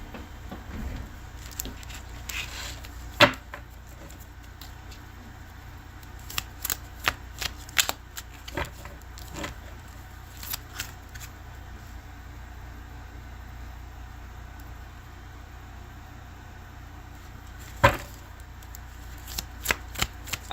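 Tarot cards being gathered up after a spill and shuffled, with repeated soft riffling and sharp taps of the deck close by, over a steady low hum throughout.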